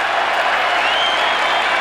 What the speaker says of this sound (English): the crowd applaud the effort